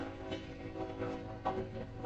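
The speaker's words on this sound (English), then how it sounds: "while this train goes by, because I don't know if you guys are gonna be able to hear me over the train horn" A train rumbles past with a steady tonal horn sounding through it, heard at a moderate distance as a continuous low drone with a few brighter swells.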